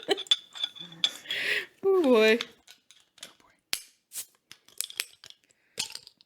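Small metal bottle opener and loose bottle caps clicking and clacking in short, scattered bursts at close range, mixed with talking.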